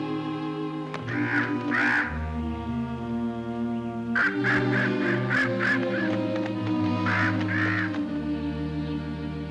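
Repeated cawing from a crow, several harsh calls in bursts rising over a steady bed of orchestral music that plays throughout.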